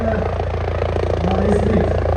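The Chief Minister's helicopter approaches to land at a public event in Rikhnikhal, Pauri, a loud, steady low rotor rumble that fills the whole stretch.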